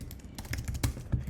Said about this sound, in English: I just changed the line number by typing stuff